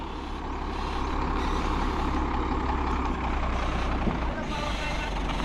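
Truck-like vehicle engine idling and moving slowly along a narrow road, a continuous mid-level rumble with faint clatter, shouted voices nearby directing it past.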